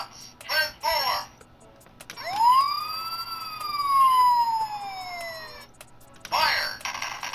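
An electronic siren from a 2001 Optimus Prime fire truck toy with lights and sounds gives a single wail that rises quickly, then slowly falls, sounding close and clear. Short toy voice phrases play just before and after it.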